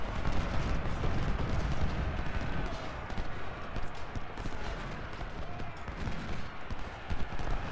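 Musket volley fire in the Ultimate General: Civil War video game: dense, continuous crackling gunfire that stays loud throughout and blends with battle noise, with no clear gaps between the shots.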